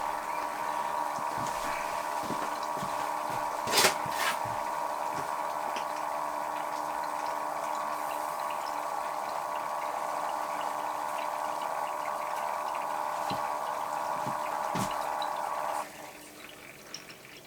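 Steady droning hum of a pump pushing coolant into a PC water-cooling reservoir in an Alphacool case build, with faint clicks and one sharp knock, then an abrupt drop in level near the end.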